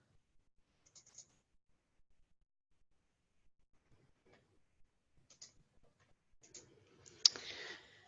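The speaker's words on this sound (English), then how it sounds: "That's by double clicking on it." Quiet computer mouse clicks in a CAD program, a few sparse soft clicks and taps scattered over several seconds, with a slightly louder burst of clicking and faint handling noise near the end.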